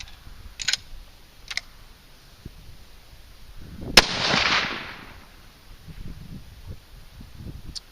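A single sharp .243 rifle shot with a 90-grain Sierra Gamechanger round cracks loudly at an outdoor range, followed by a brief rushing echo that fades over a second, with faint ticks and quiet background before and after.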